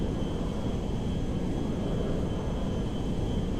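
Jet engines of a Boeing 747 Dreamlifter in GTA 5 roar as a steady, broad rushing drone with a faint high whine, continuous and fairly loud with no talk.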